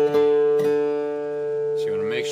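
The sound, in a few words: guitar D string tone compared at fifth fret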